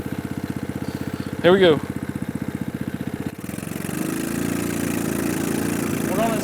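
A mini Jeep's small engine chugs with a steady, close, pulsing rumble as it climbs a slope, then rises into a fuller, louder drone. A person speaks briefly over it.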